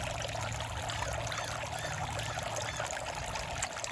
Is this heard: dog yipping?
no